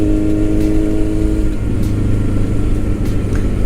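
A Kawasaki Z900 motorcycle ridden on a highway gives a loud, steady engine drone with heavy wind rush. The pitch drops noticeably partway through, as if easing off or shifting, then holds a lower hum.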